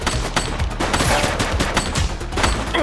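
Rapid gunfire in The Precinct, a police action video game, sounds as dense bursts of loud, overlapping shots in a sustained, chaotic volley, close and continuous throughout.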